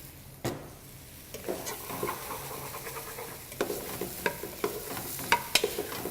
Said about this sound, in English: just simmer those off a little bit with the rest of the vegetables